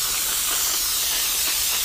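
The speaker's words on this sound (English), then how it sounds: "I got the steam down, pressure down low, so that it's not coming out so heavy" A steam cleaner sprays steam on the windows of a Subaru Forester at low pressure, a steady, loud, close hiss with no break and no voices.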